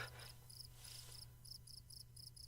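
Crickets chirping in the video game Take a Hike, in short repeated bursts of high chirps over a steady low hum, with no talking.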